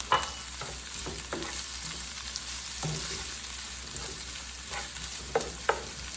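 Sausages frying in a pan with onion and garlic, a steady broadband sizzle with scattered pops and occasional utensil scrapes, close and continuous with no talking.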